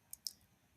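Two quick, faint mouse clicks about a tenth of a second apart, sharp and close, in near silence.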